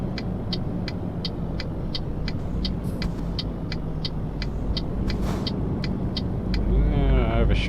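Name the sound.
DAF truck driving in Euro Truck Simulator 2 video game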